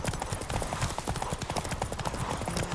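A horse gallops at full speed during a race in The Witcher 3, with rapid, steady hoofbeats that stay loud and close throughout.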